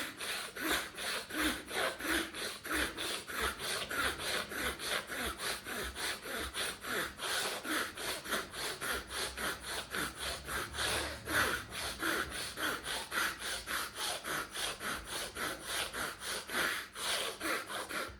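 Deep pranayam yoga breathing, forceful and steady, with loud rhythmic breath strokes repeating quickly and evenly for the whole stretch, close up and with no talking.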